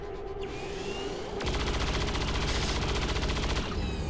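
Rapid overwatch gunfire in the video game XCOM 2, a dense rattling burst of many shots that swells loud and sustained after a quieter opening, fading near the end.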